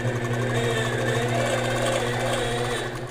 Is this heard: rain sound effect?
no